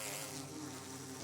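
Bee buzzing in a Minecraft mod: a steady, close insect drone with a rough, wasp-like tone, holding level and unbroken throughout, with no voices.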